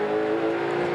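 Ford V8 touring race car engine at Symmons Plains, a steady close purr with a strong sustained tone throughout, no voices.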